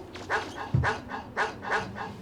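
A dog in a video game barking and yipping, about five short, moderately loud barks in an uneven rhythm over a faint background.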